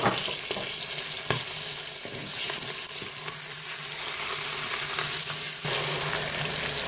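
Smoked bacon lardons fry in a Cookeo multicooker with a steady, loud sizzle and crackle throughout, broken by occasional stirring scrapes and pops.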